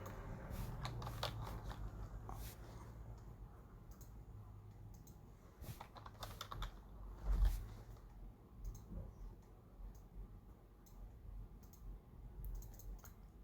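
Rapid clicking of keys on a computer keyboard as text is entered, close and fairly quiet, coming in uneven bursts over low background hum.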